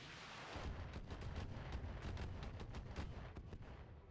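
Weapons fire in the mech combat game Roguetech as a dense, continuous barrage of booming shots and rumbling impacts, loud and sustained throughout with no talk.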